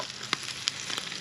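Grease sizzling in a hot pan while cooking a Spanish potato tortilla, a steady close crackle with a few sharp pops standing out, no voices.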